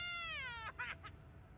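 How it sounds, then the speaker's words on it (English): A cat in the Baldur's Gate 3 game gives a long, drawn-out crying meow that rises and bends, then breaks into a few shorter wailing yowls over a low rumbling background. "so that you don't have to hear this stupid cat crying"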